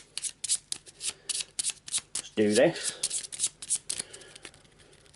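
Arkham Horror game cards are riffled and shuffled in a brisk run of short, crisp bursts close by, with a person talking briefly in between.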